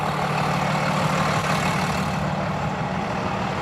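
The engine of a 2023 Renegade Verona 36VSB motorhome idles at a steady, unbroken rumble heard from close by, with no voices over it.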